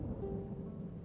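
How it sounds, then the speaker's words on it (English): Low continuous rumble of thunder from a thunderstorm in the game Trails in the Sky the 3rd, a steady dull roll with faint rain-like texture and no talk. "Ooh, thunderstorm."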